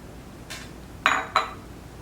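Ice cubes dropped onto the cotton-wool clouds of a tabletop water-cycle model, giving three brief clinks: a faint one, then two sharper, louder knocks close by, with no talking.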